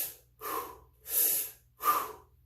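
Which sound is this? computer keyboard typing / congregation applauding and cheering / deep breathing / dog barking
deep breathing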